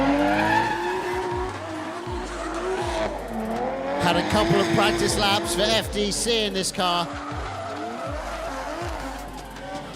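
Drift car at a D1GP Malaysia event sliding through its run, tires squealing and skidding in long bursts with engine revving, loud and close, while a commentator talks throughout.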